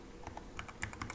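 Several quick keystrokes tapped on a computer keyboard while a cd command is entered, with light irregular clicks, close and alone, no talking.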